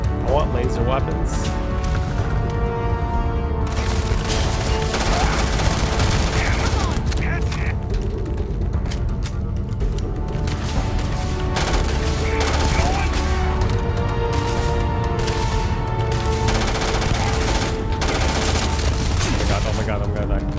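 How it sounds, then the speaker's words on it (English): Laser weapons fire in the space shooter Starfield in rapid, continuous loud bursts with mechanical clatter, while players talk excitedly over the barrage. "Laser weapons."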